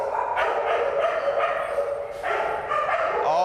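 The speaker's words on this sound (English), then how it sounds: "These are dogs, all these ones, they got bumped over into side cages" Several shelter dogs in side cages bark and yip repeatedly, the loud, overlapping barks coming in quick bursts from close by, with no talking.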